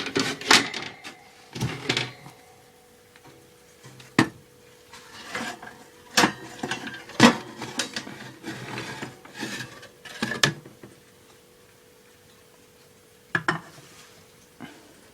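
A metal muffin tray is pulled from an oven in a series of scattered clanks, scrapes and knocks, loud and close, separated by quiet gaps.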